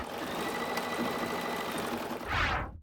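Embroidery machine stitching on a tea towel, a steady quiet mechanical whir and rapid needle chatter running continuously, then a brief louder hissing burst near the end.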